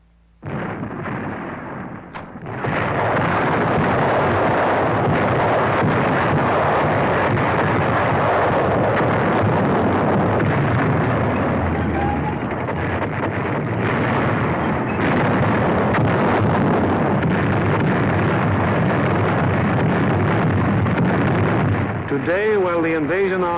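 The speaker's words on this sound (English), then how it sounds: "heavy bombers roar out over the heads of the advancing ground forces, blasting away systematically at vital industrial" WWII heavy bombers over industrial targets in Germany: a dense, continuous roar of engines and rumbling blasts fills the whole stretch, loud and unbroken, with a narrator's voice running over it.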